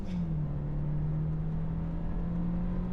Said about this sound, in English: just a normal hard acceleration run